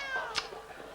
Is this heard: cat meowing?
yes